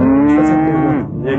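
A calf lets out one loud, close moo, a sustained tonal bellow that sags in pitch toward the end.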